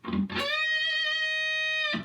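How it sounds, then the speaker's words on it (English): A distorted electric guitar note is picked on the B string at the 14th fret and bent up a full step, its pitch rising slightly and sustaining steadily for about a second and a half, with brief attacks at either end. "bend up a full step"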